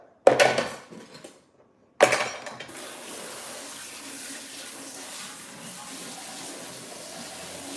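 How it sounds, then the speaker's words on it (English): Tap water runs steadily into a kitchen sink during dishwashing, opening with a couple of clattering splashes and a brief pause before a continuous, moderately quiet flow settles in with no one speaking. "Let's wash these dishes we just made."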